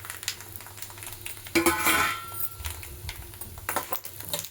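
Lentils roasting in oil in a pan for sesame chutney powder, with soft stirring scrapes and a faint sizzle, a louder burst of clattering stirring around the middle, then quieter scraping again.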